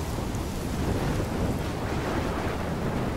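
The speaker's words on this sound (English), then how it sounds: "I'm trapped in a storm?" A storm in the video game Life is Strange roars with dense, steady wind and crashing waves that fill the whole clip at a constant loud level, with no voices.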